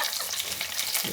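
Curry leaves hitting hot oil give a dense, crackling, spitting sizzle that fills the short moment, loud and close, with no voices.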